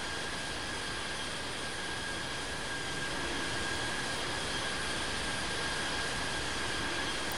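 A jet buzzes past in the Infinite Flight flight simulator game, a steady, broad engine roar with a faint high whine that holds at an even level throughout.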